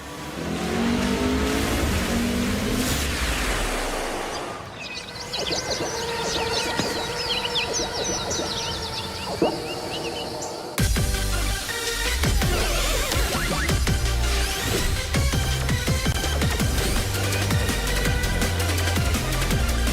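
Racing car engines from the Sonic Racing CrossWorlds video game trailer, revving and accelerating loudly, with tire squeals over a busy mix of music and effects. A hard cut partway through brings in a fuller, denser section that continues to the end.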